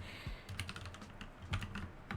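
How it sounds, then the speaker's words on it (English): Quick, irregular clatter of computer keyboard keys, soft and close, tapping in short bursts with small pauses between strokes. "Typing is hard, okay?"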